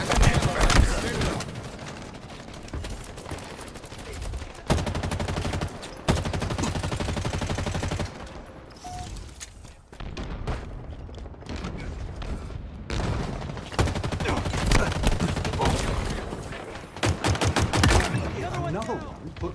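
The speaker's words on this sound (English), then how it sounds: "Sniper got a headshot on us" Rapid gunfire and sharp sniper rifle shots from Halo Infinite crackle through most of the stretch, with loud bursts, heavy booms and brief lulls, mixed with in-game effects and intermittent talk.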